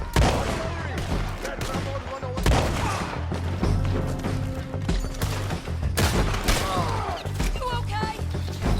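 Repeated heavy shotgun blasts firing solid slug rounds in a Red Dead Redemption 2 shootout, loud and close, mixed with dense game music and effects throughout.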